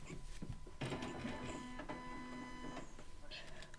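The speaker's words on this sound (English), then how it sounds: "I accidentally just turned on my printer." A home printer powers up with a steady mechanical whir and sustained motor hum lasting a couple of seconds, fairly close, with soft rustling around it and a streamer's room in the background.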